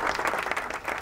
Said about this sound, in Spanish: Después de los aplausos.